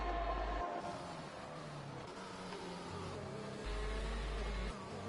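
F1 2021 cars race side by side at the British round of a video game season, their engines a fairly faint, droning whine with a low hum that swells and fades slightly.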